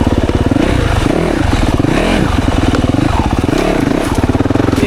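2024 Yamaha YZ 450FX dirt bike ridden through the woods, a loud, close, continuous engine burble that rises and falls with throttle in repeated swells, with faint clatter from the trail.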